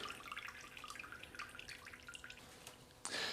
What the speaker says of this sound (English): So I'll just let the majority of the water drip off here, and then I'll roll it out.